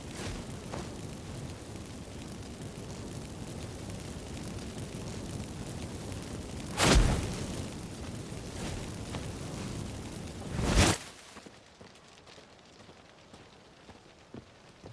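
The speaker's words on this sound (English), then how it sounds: "let's burn this shack down" A wooden shack burns down in The Witcher 3, a steady crackling roar like heavy rain with two louder whooshing flare-ups a few seconds apart, before the fire noise drops away to near quiet.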